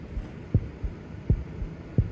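A racing heartbeat pulses in isolation, three deep double thumps spaced roughly evenly over a soft low hum, close and muffled.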